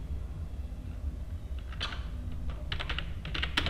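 Code being typed on a computer keyboard, with soft scattered keystrokes that grow into quicker clustered clicks over a steady low hum, close and fairly quiet, no voices.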